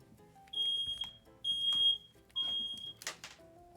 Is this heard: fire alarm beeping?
yes